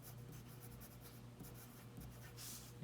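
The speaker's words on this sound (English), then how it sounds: "So I'm going to write this down" A pen writing numbers down on paper, a continuous soft scratching close by, steady and faint over a low hum with no talking.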